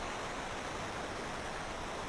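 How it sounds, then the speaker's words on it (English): Steady, dense rushing of a waterfall in the Final Fantasy IV 3D remake video game, a continuous broadband wash of falling water with no voices or other sounds. "Deep down the waterfall."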